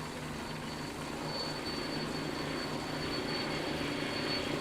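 A helicopter filming a cycling race over the Alps gives a steady, even drone of rotor and engine noise that holds at the same level throughout, with no voices.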